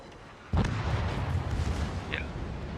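A single heavy boom from warship main guns firing armor-piercing shells in World of Warships, a sharp onset followed by a long rumbling roar that keeps going to the end.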